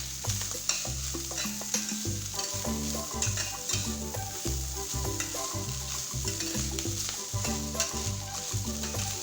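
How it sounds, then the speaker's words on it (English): Potato fish balls fry in hot oil with a continuous crackling sizzle, while a utensil stirs and scrapes them in repeated knocking strokes, all at moderate, close volume. "Continue frying until it is golden brown."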